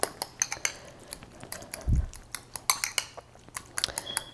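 A spoon clinks and scrapes repeatedly against a bowl while stirring horseradish sauce for a sandwich, a busy close-up series of light metallic taps with a dull thump partway through.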